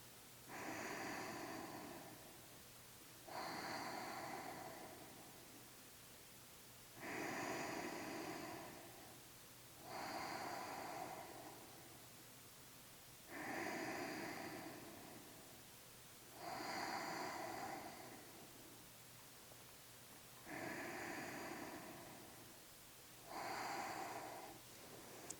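Slow, deep breathing during a yoga pose: eight even inhale-exhale cycles, close and quiet, each breath a soft airy rush spaced a few seconds apart.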